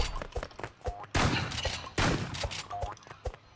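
Rapid gunfire bursts from the Roblox Rivals shooting game, loud and close, with dense volleys clustered in two main stretches and sharper single shots scattered between.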